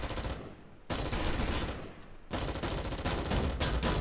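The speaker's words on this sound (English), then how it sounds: "Shooting the cube." Gunfire in the video game Pantropy aimed at a cube, sounding as dense, continuous bursts of loud shots with two brief lulls.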